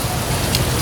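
Steady rain with gusting wind rushing outdoors, a dense continuous hiss and roar filling the background with no clear individual drops, loud and close throughout.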